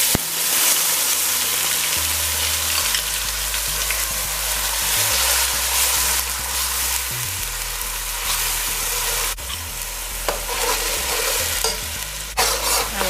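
Garlic, wiri peppers and onion dropped into hot oil for a lamb pepperpot, a loud continuous sizzle and crackle with occasional stirring scrapes, close and steady throughout.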